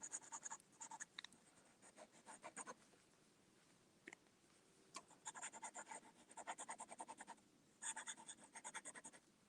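Fountain pen scratching across paper in a quiet room, a series of quick rhythmic strokes and short scribbling bursts with brief pauses between, close and faint.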